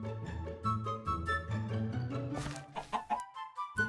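A Minecraft chicken clucks in a Skyblock world, a series of short clucks mixed with a background game music melody, fairly quiet and close.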